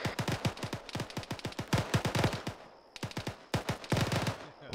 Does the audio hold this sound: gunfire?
yes